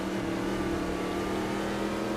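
Ginetta G58 prototype race car engine at speed in Automobilista 2 at Brasilia, a loud, sustained droning roar with steady pitch, heard alone without talk.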